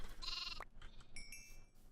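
Sheep in a modded Minecraft Skyblock game give a short pair of bleats, the first loud and buzzy, the second thinner, followed by brief high pinging game effects, all close and with no talking.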